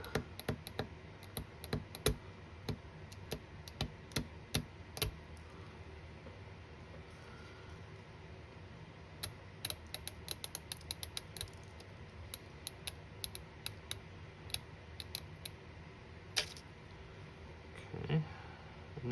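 The forecastle deck part of a 1:200 RC RMS Titanic model is being cut by hand, producing many small, sharp, irregular clicks and snips over a quiet background. There are short pauses, and the clicks bunch into clusters.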